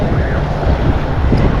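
Ocean surf hits the beach at Lido Beach in a brief, continuous rushing wash, heavily buffeted by wind noise on the microphone.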